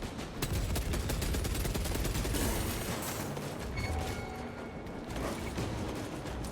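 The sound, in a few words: gunfire in Warhammer 40,000: Space Marine 2 video game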